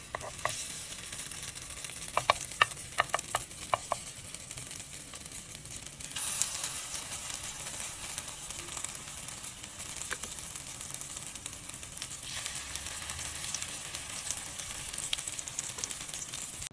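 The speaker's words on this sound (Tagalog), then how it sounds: "Pwede na nating i-fry." Carrots with egg and onion sizzle and fry in a pan, a steady soft hiss with a few sharp crackles and stirring scrapes early on, then a brighter, louder sizzle building midway.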